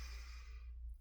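A single deep inhale in a guided yoga-style breathing exercise, drawn in steadily and softly close by, fading toward the end with no talk over it.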